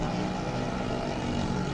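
Steady broadband engine drone from motorcycles rolling past in a Greeley Stampede Independence Day parade, a continuous rumble that holds evenly without distinct passes.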